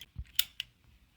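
Pittsburgh pipe cutter working on a tube for a homemade temple menorah: a low thud followed by two sharp metallic clicks, quiet and close, with silence between.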